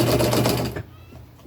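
A sewing machine stitches down t-shirt fabric in a steady, fast whirring run for most of the moment, then stops abruptly, leaving only faint room noise.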